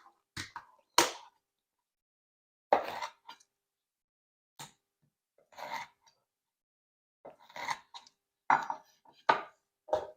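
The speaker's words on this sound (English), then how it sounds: "Go ahead and chop that up" Knife chopping two lemons on a cutting board, a series of sharp, separate thuds in irregular clusters, close and fairly loud with short silences between strokes.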